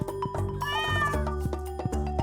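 Cartoon cat in the Stardew Valley video game giving a few short, bright meows over steady background game music, close and clear with no talking.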